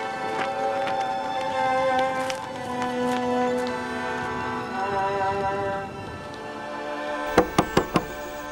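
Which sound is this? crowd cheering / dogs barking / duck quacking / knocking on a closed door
knocking on a closed door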